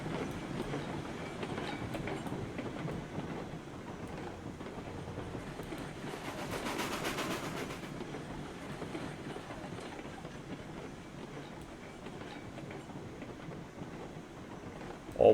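A video game locomotive runs around a loop, with a steady rolling rumble and rail clatter, including a brief rise in louder wheel noise midway. No voices are heard.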